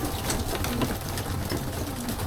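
Pigeons coo softly while feeding, a low, continuous murmuring of several birds close by, with faint rustling and pecking around them and no voices.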